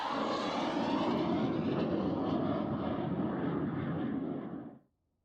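A Royal Air Force Hawker Hunter jet passes with a broad, steady roar, loud and constant before cutting off abruptly near the end; no voices.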